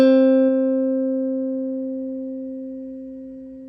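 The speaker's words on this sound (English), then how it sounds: "we are going to jump down to the 5th fret of the G string" A single guitar note plucked at the 5th fret of the G string rings out clearly and alone, sustaining steadily and fading slowly over several seconds.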